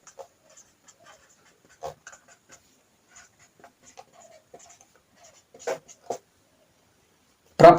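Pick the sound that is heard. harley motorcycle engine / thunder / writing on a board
writing on a board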